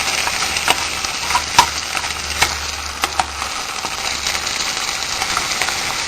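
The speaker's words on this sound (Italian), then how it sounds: "la facciamo rosolare un poco" Trachiulelle, Neapolitan pork ribs, browning in a pan: a steady, loud sizzle and fry with occasional clicks and scrapes as the meat is stirred.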